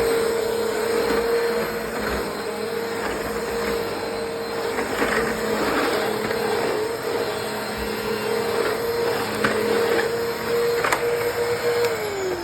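Eureka WhirlWind 3272AV canister vacuum cleaner running steadily on a back porch, a constant close motor whine with a sustained tone and airy rush throughout, the pitch dropping slightly near the end.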